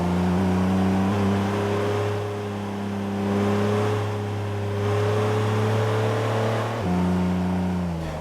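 A car in the video game CarX Drift Racing accelerating toward top speed, its engine a loud, steady drone rising in pitch through several gears, with a brief shift near the end.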